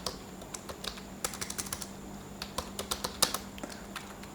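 Typing on a computer keyboard: a quick, irregular run of crisp key clicks, close and fairly quiet, over a faint steady hum, with no voices.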